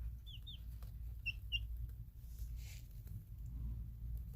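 Thirty-one-day-old chicks give a few short, high-pitched chirps, two quick pairs near the start, over a steady low background hum before falling quiet.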